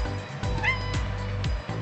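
A house cat gives a short rising meow indoors, near and fairly clear, with a faint low hum behind it.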